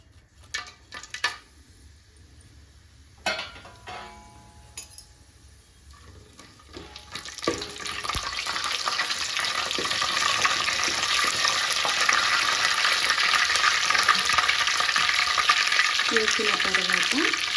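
Bay leaves, cardamom, cloves and cinnamon drop into a pan for coconut milk rice, with a few clinks and taps first, then a loud, steady frying sizzle that builds and holds.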